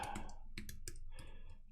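Password typed on a computer keyboard, a quick run of crisp, close key clicks in uneven rhythm, quiet and alone.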